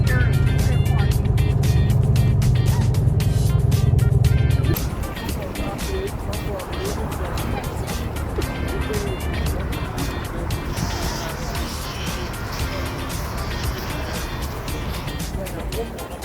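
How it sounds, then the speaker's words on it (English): City buses coming and going at a parking area in Moscow, a loud idling engine rumble for a few seconds giving way to steady traffic and vehicle noise nearby. "The buses will be coming and going. This is the place where we are parking."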